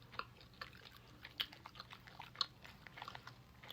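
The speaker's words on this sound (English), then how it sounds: "I'm going to take a bite." Someone bites into and chews a slightly crunchy, moist peanut butter bar, giving soft irregular crunches and mouth clicks, faint and close, with no talking.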